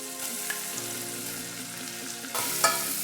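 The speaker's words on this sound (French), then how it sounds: "Et on va légèrement les faire suer." Shallots sweating gently in melted butter for a pasta risotto, a continuous close sizzle that swells louder and brighter near the end, with no voices over it.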